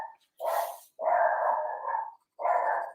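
A dog close by barks three times in a row, the middle bark drawn out longer, with clear silence between them.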